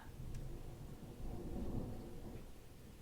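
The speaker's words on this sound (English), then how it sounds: "So now we have Thunder." Faint distant thunder in Los Angeles, a low rolling rumble swelling and easing over a few seconds beneath steady quiet background noise.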